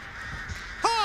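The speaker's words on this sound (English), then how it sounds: "Oh, she hit me with the crows from across the map!" Crows cawing in the Dead by Daylight game, one sharp, loud caw breaking in near the end over a low murmur of game ambience.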